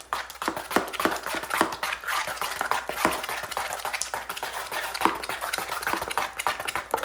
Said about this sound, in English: Mix it till the lumps get out and everything.